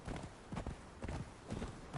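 Hooves of an oversized donkey clip-clopping in Conan Exiles, a steady walking rhythm of muffled thuds repeating about twice a second, close and fairly loud over a background wash.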